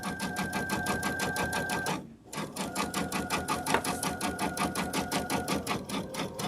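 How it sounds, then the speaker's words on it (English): A sewing machine runs steadily on a sunflower wall-hanging quilt project, giving a close, rapid rhythmic clatter of stitches that pauses briefly near two seconds before resuming at the same even pace, with no talking. "Are you like, wow, she sews really slowly?"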